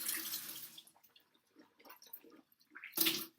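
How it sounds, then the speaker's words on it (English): Tap water running over hands being rinsed and a mouth being rinsed, splashy bursts at the start and end with quieter dripping and sloshing between, close and fairly soft. "So what I'm going to do is rinse my hands here."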